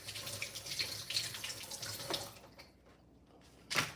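Tap water runs steadily into a sink as something is rinsed off, a close, continuous splashing flow that cuts out near the end before a short final burst.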